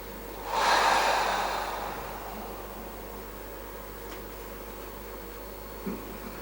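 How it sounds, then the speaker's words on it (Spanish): A single deep, close breath taken through the nose during a breathing exercise, a loud rushing inhale that fades into quiet room hiss, with a faint click later on. "Cogemos esa respiración."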